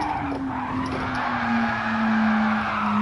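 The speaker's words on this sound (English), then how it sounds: "We touch the handbrake to start the skid off" In Gran Turismo 7, a car slides into a handbrake-initiated skid, its tires letting out a loud, sustained squeal over steady engine noise with no pause throughout.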